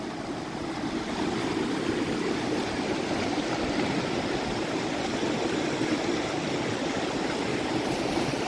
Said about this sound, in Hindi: ये बांसपान नदी।